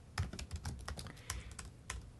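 Quick, light keystrokes on a computer keyboard, a close, irregular clatter of individual taps with no voices.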